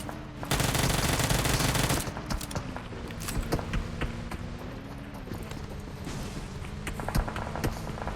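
In a PUBG Mobile match, a long loud automatic burst opens the fighting, then irregular single shots and short rattling volleys crackle on above a steady low game hum.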